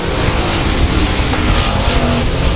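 Race cars roaring around South Texas Speedway, a loud, dense and continuous engine drone with several cars blending together, steady throughout and without pauses.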